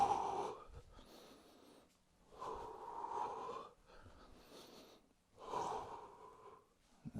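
Deep breathing during a standing ab workout: slow, audible inhale-and-exhale cycles, three full breaths with pauses between, close and soft with no talk.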